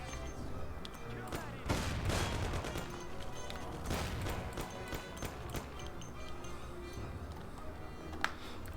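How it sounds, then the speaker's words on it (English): Bursts of gunshots in the game Mafia: The City of Lost Heaven, a series of sharp cracks and rapid volleys at moderate distance, fairly quiet overall. "I'm gonna fire some shots."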